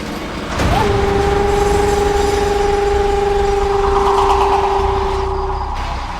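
A train pulls into a station with a loud, sustained two-tone horn held for several seconds over rumbling engine and track noise, close by and steady before fading slightly at the end.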